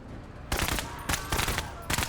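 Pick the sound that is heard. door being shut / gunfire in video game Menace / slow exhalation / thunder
gunfire in video game Menace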